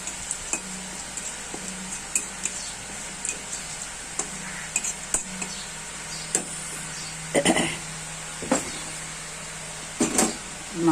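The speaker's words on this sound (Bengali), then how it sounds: "মাংস ম্যারিনেট করা হয়ে গেছে, এবার মাংসটা দিয়ে দিলাম।" Marinated meat goes into a pan of hot oil tempered with whole garam masala, a dried red chilli and a few coriander seeds. It gives a soft, faint sizzle, with scattered spoon clinks and scraping stirs coming in short bursts.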